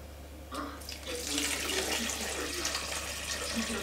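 Tap water pours steadily into a pot, a continuous hissing splash that starts after a brief pause and holds at close range, alone without talk.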